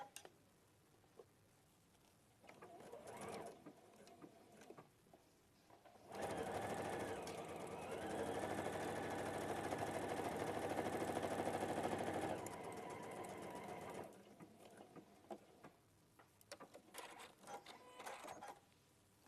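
A sewing machine runs in one long steady burst stitching fabric pieces together for a home sewing project, loud and continuous for about six seconds, with quieter handling noises and faint talk before and after.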